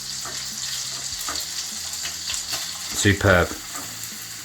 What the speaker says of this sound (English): So I would add your vegetables that you have cut to the pan.